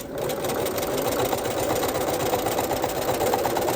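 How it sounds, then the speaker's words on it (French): A sewing machine stitching elastic onto underwear fabric, a fast continuous mechanical whirring and rapid ticking of the needle, loud and close, running steadily without pause. "pour pouvoir faire ma piqûre de maintien de l'élastique"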